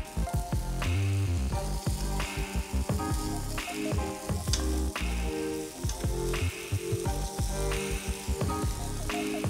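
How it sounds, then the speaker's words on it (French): Onions and smoked tofu frying in a pan for a vegan quiche filling, a steady close sizzle with crackling pops and scraping stirs throughout, no voices. "On ajoute le tofu fumé et on fait griller tout ça"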